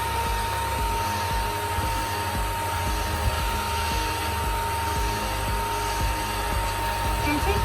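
A hair dryer blows steadily and loudly up close, a continuous whooshing drone drying alcohol ink on paper, unbroken for several seconds.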